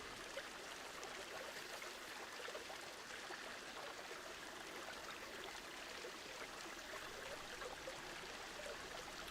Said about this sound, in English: under construction, special effects. Top of the waterfall.